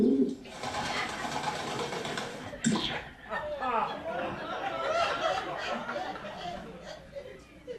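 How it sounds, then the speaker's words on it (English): Pigeons coo and chortle through a lively barnyard-style stretch, with a burst of bird calls and scuffling mixed in; people talk over and between the cooing. "Can we put these pigeons in a pen?"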